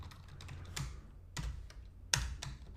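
Quick, light keystrokes on a computer keyboard, a handful of irregular clicks and taps close up and alone in a quiet room.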